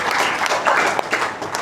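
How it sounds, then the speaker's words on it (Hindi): An audience at a business event claps in a dense, steady burst of applause, loud and close, with no voices standing out above it. "एक बार शानदार ताली होनी चाहिए"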